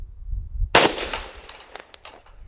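A handgun fired one-handed at an outdoor range with steel targets such as a dueling tree, giving one loud sharp shot followed by faint metallic rings and clanks.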